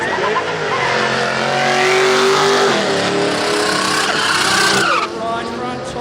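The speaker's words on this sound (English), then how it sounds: "This one JZ powered Commodore Ute, almost said station wagon." A JZ-powered Holden Commodore Ute at a drag race, engine roaring loud and close as it revs and accelerates with tyre squeal, the pitch climbing through gears, with a voice talking over it.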